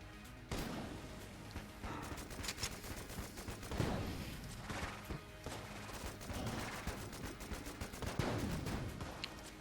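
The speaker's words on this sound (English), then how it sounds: "I want to do pulse fire shots here" Rapid pulse-fire gunshots in the video game Enter the Gungeon, dense bursts of shots crackling continuously with heavier impacts throughout, loud and close with no talking.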